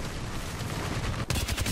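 Gunfire in an Apex Legends pro league match crackles as overlapping distant shots, then a sharper cluster of louder, nearer bursts after a brief dip.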